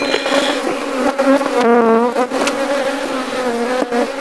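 Bees swarm around a beehive during a honey harvest at Agboville, Côte d'Ivoire, a dense, loud, continuous buzz with wavering pitch close to the listener.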